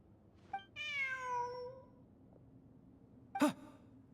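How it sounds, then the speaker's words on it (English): A cat meows in a Genshin Impact game: one long, drawn-out meow up close, then a short sharp mew after a pause, over a quiet background with no talk. "Look, a cat."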